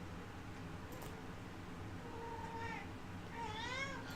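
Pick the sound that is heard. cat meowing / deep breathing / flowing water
cat meowing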